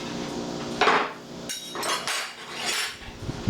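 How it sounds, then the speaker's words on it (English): Clinks and clatters of a plate and utensil as a freshly cooked bacon and egg omelette is served onto a plate, several sharp knocks spread across a few seconds at close range. "I'm going to put 1 omelet on my son's plate"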